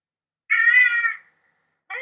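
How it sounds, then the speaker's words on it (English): A cat gives one drawn-out meow, then begins a second one after a short silence; close and clear with no voices. "Yeah, damn cat here."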